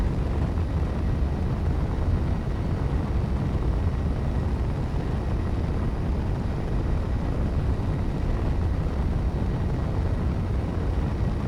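A ship's forward thrusters in the space game Space Engineers fire continuously, a steady loud broadband roar that holds even throughout without pauses or voices.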